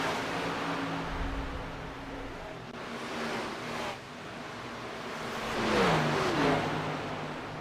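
Race cars lapping a track at the Las Vegas URL Championship, engines droning steadily at a distance, with one car swelling louder and sweeping in pitch as it passes close by before fading again.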